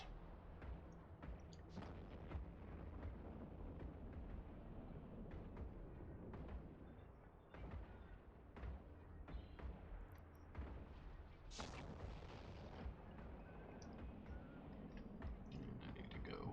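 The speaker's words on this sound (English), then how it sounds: "Fire all weapons." Sustained barrage of weapons fire in the EVE Online space game, dense booming blasts and crackling impacts rolling continuously with a brief burst near the end, loud and close with no talk.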